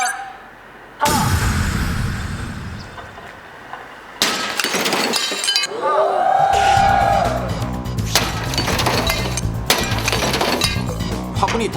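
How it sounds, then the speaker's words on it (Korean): A flowerpot dropped from 12th-floor apartment height onto a car's safety-glass windshield strikes with a loud smash, followed by crackling glass and a ringing tone amid lingering rumble; a narrator talks around the impact. "아파트 12층 높이에서 이 차량 유리에 화분을 떨어뜨려 보겠습니다."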